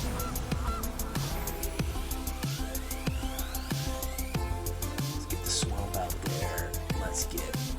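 A goose honks repeatedly in short bursts from a Goose card in the MTG Arena digital card game, set over steady game music and effects.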